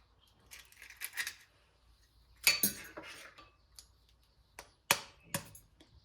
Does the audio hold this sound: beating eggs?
yes